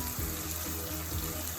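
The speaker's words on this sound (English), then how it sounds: "This is continuing to saute." Corned beef sautés in a pan for a Jamaican-style dish, giving a steady, dense sizzle that continues evenly throughout at moderate volume.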